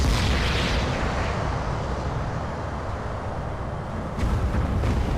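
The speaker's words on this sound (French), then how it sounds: "Voilà, c'est un peu explosé partout" A spaceship blows apart in the Alien vs Predator video game, a loud, dense rumbling blast that rolls on for several seconds and then swells again near the end.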